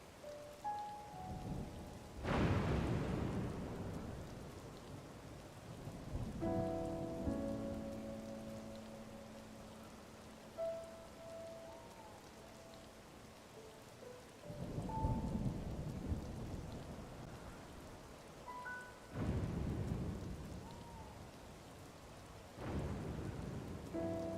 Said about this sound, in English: Big storm, or is this just...